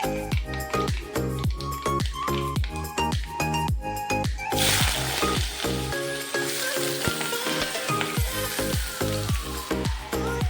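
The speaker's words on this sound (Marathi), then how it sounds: "मोहरी तडतडल्यानंतर आपण त्यात चिरलेले बटाटे घालायचे" Chopped potatoes hit hot oil already crackling with mustard seeds, asafoetida and curry leaves for a potato bhaji, setting off a loud, hissing sizzle midway that continues steadily under repeated tonal ringing strikes.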